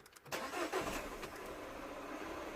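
A Citroën DS3 engine, just back together after a cylinder head replacement, cranks briefly and then catches, settling into a steady close-up idle with no talking.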